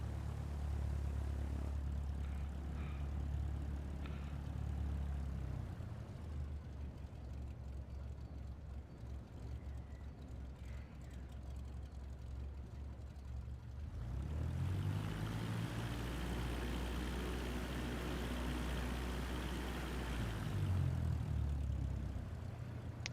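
A propeller plane taxis toward the end of a runway in Microsoft Flight Simulator 2024, heard from outside the aircraft: a steady engine drone, low and continuous, with the pitch sliding up and down as the power changes.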